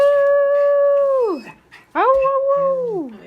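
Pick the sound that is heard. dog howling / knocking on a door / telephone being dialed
dog howling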